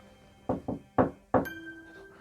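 Four sharp knocks on a window at night, two quick raps, a pause, then two more spaced hollow knocks, close and distinct, followed by a faint tone.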